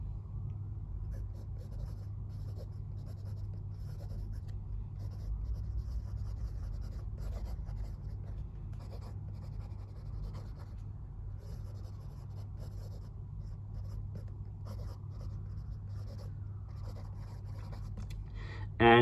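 A Jinhao Tiandao 1935 fountain pen writes wet and smooth across paper, its faint, steady scratching strokes running close beneath a low constant rumble.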